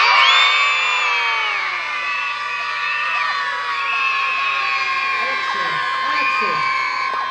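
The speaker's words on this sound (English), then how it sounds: "I want to hear the loudest yell you can yell" A large group of children yells together at a golf carnival, a loud sustained chorus of shrieks and whoops that holds steady for several seconds with no pause.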